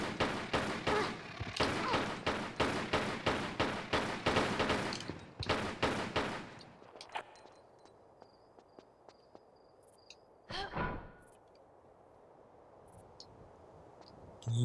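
Rapid, evenly spaced gunfire against scarabs in Tomb Raider: The Last Revelation, a loud steady string of shots for about six seconds, then quiet ambience with a single thump later.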